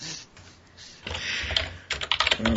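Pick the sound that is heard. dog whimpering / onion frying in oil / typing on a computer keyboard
typing on a computer keyboard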